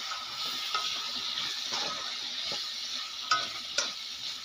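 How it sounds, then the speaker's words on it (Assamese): Potatoes are stirred in a hot cooking pan: a continuous close sizzle of frying with scraping strokes and a couple of sharper clinks against the pan. "এতিয়া ইয়াত আমি এড কৰাৰ পিছতে ধুনীয়াকৈ আমি লৰাই দিম"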